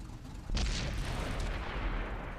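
A tank gun fires in World of Tanks, a sudden heavy boom followed by a long rumbling roar and debris rattle, loud and close with no talking.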